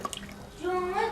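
Water pouring steadily into a container at home, a rising gurgling stream building after a few faint clicks and knocks.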